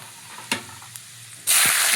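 Garlic dropped into hot oil for a sambar tempering with mustard seeds, panch phoron and fenugreek: after a couple of faint clinks, a sudden loud, bright sizzle bursts up and holds steady, close by.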